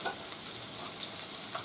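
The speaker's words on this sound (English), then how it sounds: "See that coating there? You're searing the meat." Mini hamburger slider patties sear in a hot pan, giving a steady close hiss of frying with faint stirring noises throughout.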